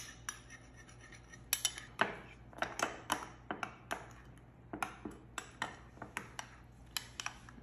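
A utensil clinks and scrapes against a bowl while tomato paste and water are mixed for chicken, light irregular taps and rattles, close and quiet.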